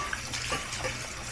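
Tap water runs steadily over something being rinsed while cooking Vietnamese siu mai, a close, continuous hissing rush with slight splashy fluctuations.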